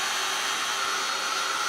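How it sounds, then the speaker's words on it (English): A heat dryer blowing on a Bible journal page, a steady, loud, close whirring rush of air with a constant fan whine and no break. "Grab the dryer, give it a little blast of heat"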